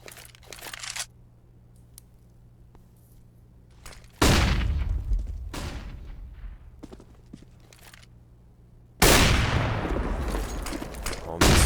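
Gunfire in a Counter-Strike match: two loud, sharp bursts of shots with crunchy, crackling tails, separated by quieter stretches of faint ambient game noise, close and dominant.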